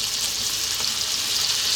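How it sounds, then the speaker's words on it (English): Almonds fry in melted butter and honey in a pan over low heat, giving a steady soft, continuous hissing sizzle with no talking. "So now for our almonds, I'm melting some butter in there."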